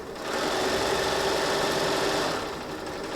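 A sewing machine stitches fabric pieces, seams held flat under the presser foot, running as a steady, close, continuous mechanical whir for about three seconds with no talking.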